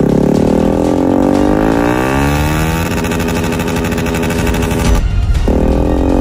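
Motorcycle engine revved at full throttle, a loud, sustained roar with rising and shifting pitch close by, briefly dropping out before surging back.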